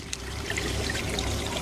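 Waterfall pump sucking air, a loud, continuous gurgling churn of water mixed with air, close and unbroken.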